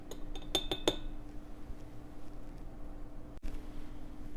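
A teaspoon adds powdered cinnamon to a glass container, giving a few quick bright clinks of metal on glass at the start, then quiet scraping and a single sharp tap near the end.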